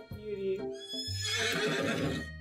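A horse whinnies and neighs in a drawn-out, pitched call, close and clear, from Colonel Sanders' horse in the video game I Love You Colonel Sanders.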